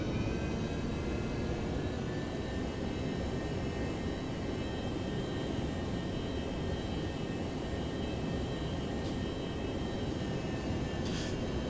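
An F/A-18 jet taxiing in the flight simulator game IL-2 1946 produces a steady, continuous engine drone with a thin high whine, holding level throughout.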